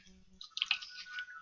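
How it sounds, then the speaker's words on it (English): Water drips and trickles through a napkin filter and leaves sand particles behind, making a brief, quiet run of wet splashes and gurgles close by with no talking. "You see it dripping through there? You can see the water moving, can't you?"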